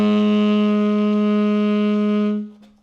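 A wind instrument holds a low B flat fingering on one steady harmonic note, close and clear with a rich stack of overtones. It sustains for over two seconds before fading out, with no talk.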